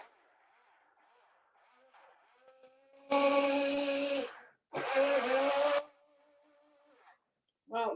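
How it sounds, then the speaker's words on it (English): A blender whirs on apple gorgonzola salad dressing in two loud bursts of roughly a second each, with a short pause between them and a third burst starting at the very end, set against a quieter background hum. "Then I'm blending."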